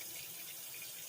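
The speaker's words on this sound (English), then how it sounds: "And I rinse them. The water is cool water." Cool tap water runs steadily over raw pork tenderloins in a sink, a close, continuous hiss and splash with no pauses or voices.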